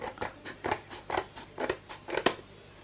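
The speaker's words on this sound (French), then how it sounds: "Du coup, je coupe ça." Scissors snip through paper for a photo album page in six evenly spaced, crisp cuts, close and quiet with nothing else heard.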